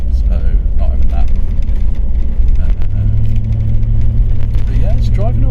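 A Land Rover nicknamed Le Basterd, just through its MOT, drives with a steady low engine rumble and road drone throughout, the engine note deepening and firming slightly partway through.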